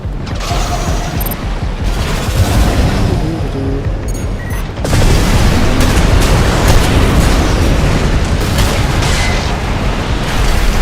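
Dense, continuous close-range weapon fire and mechanical clatter from a dual-shotgun mech in Armored Core 6, loud and sustained throughout, with a sharper surge of blasts partway through.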